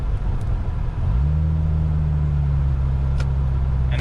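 Car with a CVT transmission cruising steadily at 30 mph, a continuous low engine and road rumble that settles into an even drone after the first second, with no talk.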